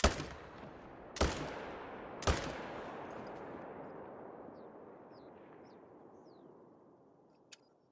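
Three sharp rifle shots crack out about a second apart in theHunter: Call of the Wild while roe deer hunting, each with a long rolling echo, followed by a fading tail and a few faint clicks.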